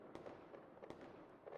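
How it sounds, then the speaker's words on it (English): Fireworks play back faintly from a device's speaker: a steady crackling rumble with several sharp pops and bangs, distant-sounding and low in level, with no talking. "Fireworks."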